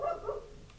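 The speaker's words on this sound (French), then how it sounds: "excusez le chien qui pète un câble" A dog barks excitedly indoors, two quick close barks in a row followed by a faint yip, short and fairly loud with no other sound over it.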